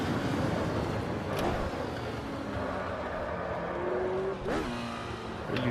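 Retro Formula race cars in the video game Automobilista 2 at Montreal '88, passing lapped drivers; a steady high engine drone holds under rising and falling revs, with sharp gear changes near the start and near the end, and no talk.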